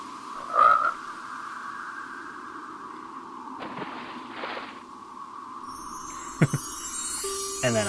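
A frog croaks in the point-and-click adventure game Lilly: Looking Through, one short distinct croak near the start followed by a few faint clicks and soft game ambience, with no talking.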